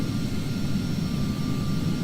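Steady jet-style engine drone from an aircraft at idle on final approach to landing in Microsoft Flight Simulator X, a continuous low rumble with a faint high whine, fairly loud and unbroken with no talk.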